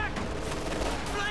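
Riflemen fire in a World War II strategy game, a dense, continuous crackle of battle gunfire across a brief moment, with a voice talking over it.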